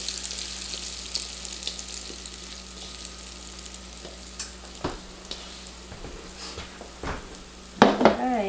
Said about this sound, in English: So I'm gonna cook this in olive oil.